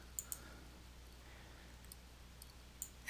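A single sharp mouse click confirming an OK button, faint and close, with a couple of tiny clicks near the start and another near the end over a quiet hiss.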